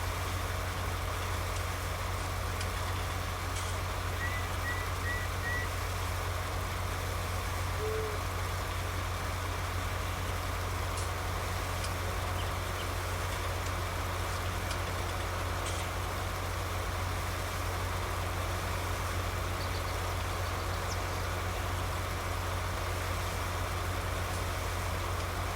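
A tractor engine idling in a first-person farming video game, a steady low droning hum that runs unchanged throughout, with faint ambient bird calls in the background and no talking.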